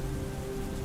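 Rain falls in a steady, dense hiss, close and continuous through a very short stretch, with no voices.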